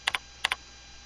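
Arrow keys on a computer keyboard are tapped in two quick pairs, four crisp, close clicks, then quiet.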